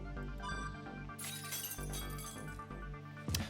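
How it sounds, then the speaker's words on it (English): Glass breaking in the Fate/Stay Night visual novel, a sharp shattering crash over game music, followed by a smaller clink at the end. "The sound of glass breaking."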